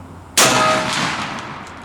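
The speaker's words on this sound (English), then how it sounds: "We're going to be shooting at 30 yards. The Browning with the Kicks Vortex improved cylinder." A Browning Silver shotgun with a 28-inch barrel and a Kicks Vortex improved cylinder choke fires one Salt Creek number 9 TSS shell, a sharp, loud blast that rings and decays over more than a second.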